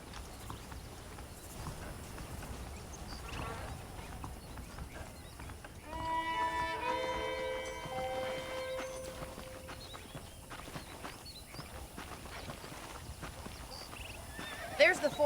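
A horse in Red Dead Redemption on PS3 lets out a loud, drawn-out whinny in the middle of the clip. Soft hoof clip-clops and game ambience surround it, and a voice talks at times.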